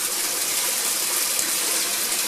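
A newly installed clothes washer runs its main fill, water rushing steadily into the drum with a constant broadband hiss, fairly loud and unbroken, with no voices.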